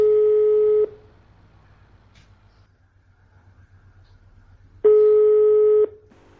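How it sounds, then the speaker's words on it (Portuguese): Two loud, steady telephone call-signal tones, each about a second long, separated by several seconds of near silence with faint background hum. "Deixa eu dar uma ligada pra ele aqui."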